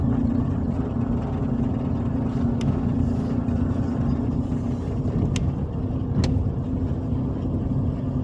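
A car creeps slowly along a narrow lane, its steady low engine hum continuous and close throughout, with a few brief sharp clicks over the top.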